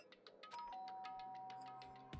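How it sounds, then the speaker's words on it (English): A two-note doorbell chime rings at a character's door in the video game Danganronpa, a bright tone sustained for over a second against faint background music, with a soft knock-like thump at the end. "Ding dong."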